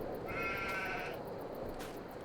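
Sheep bleat in Farming Simulator 22 on a Western Australia farm map: a single drawn-out, wavering bleat near the start, then quieter farm ambience with no talking.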